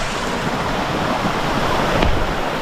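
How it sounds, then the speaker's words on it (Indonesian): Forest waterfall and river, a loud steady rush of falling and flowing water filling the whole stretch, close and unbroken, with a brief knock partway through. "Nah, air terjunnya ada di depan saya sahabatnya."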